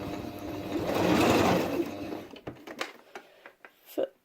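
A sewing machine runs in a steady, fairly loud stitching whir for about two seconds, then stops, leaving soft clicks and handling sounds as the fabric is turned.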